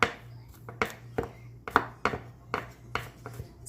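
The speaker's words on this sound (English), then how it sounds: "going to go ahead and chop up this garlic" A knife chops garlic on a cutting board in about ten sharp, distinct knocks at a steady, unhurried pace, close and clear with no talking.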